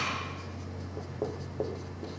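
Writing on a board during a class 6 maths lesson, soft scratchy strokes with a few sharper taps, close, over a steady low electrical hum and no talking.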